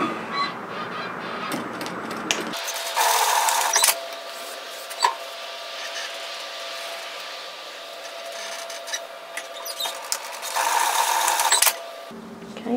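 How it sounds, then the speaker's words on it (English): A sewing machine stitches across the short end of a fabric band in two loud whirring runs, one at the start and one near the end, with quieter handling sounds and pauses between. "we're going to stitch across the short end at 1 centimetre, and we're going to do this at both ends of this band"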